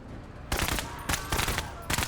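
Gunfire in the game Menace comes in rapid automatic bursts, three or four loud clusters of shots spread across two seconds with quieter gaps between.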